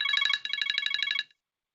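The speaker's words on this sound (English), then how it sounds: "I heard the bell ringing there" An electronic bell at a committee meeting rings in a rapid, trilling burst for just over a second, signalling that a speaker's time is up, then cuts off into silence.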